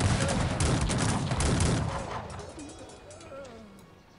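Gunfire in the strategy game Cossacks 3, a dense, loud crackling fusillade of musket volleys that thins out after about two seconds into scattered shots and fainter rumbling, with a voice talking over it.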